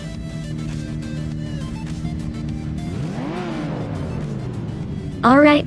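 Race cars in a video game at the start of a race at Bud International Circuit, engines droning steadily with a rising rev sweep midway, then a sharp, loud high-pitched burst at the end.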